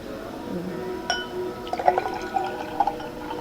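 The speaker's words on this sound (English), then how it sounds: "Like more mineral water?" Mineral water poured into a glass at close range, starting with a sharp clink of the bottle on the rim, then a bright rising trickle and splash of filling liquid in uneven spurts.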